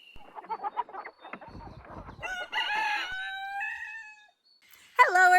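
Backyard chickens clucking nearby in short irregular bursts, then a rooster crows loudly twice, a long cock-a-doodle-doo followed by another starting at the end.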